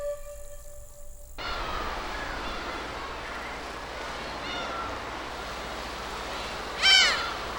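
Seabirds call intermittently at a sea cliff colony of many species, scattered cries over a steady wash of wind or surf, with one louder, nearer squawk toward the end.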